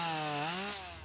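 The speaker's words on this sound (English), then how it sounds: "Chainsaws made short work of fallen trunks." Chainsaws cut through fallen tree trunks during a volunteer cleanup of downed trees, one saw's engine whining close and steady and sliding in pitch, with no voices over it.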